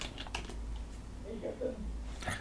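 Someone typing in a Linux terminal on a computer keyboard, a few quick clustered keystrokes near the start and another burst at the end, with a voice speaking quietly in between.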